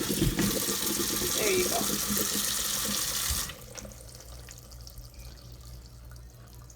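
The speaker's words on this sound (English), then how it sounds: "going to let some cold water run" Cold water runs hard from a kitchen tap over drained cauliflower, a loud steady rush that cuts off about halfway, leaving quiet room tone and a few drips while a person speaks briefly.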